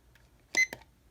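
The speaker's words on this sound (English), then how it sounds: "I'm going to start the timer here" A digital timer being started for a cold water experiment gives two short electronic beeps in quick succession, clear and close against a near-silent background.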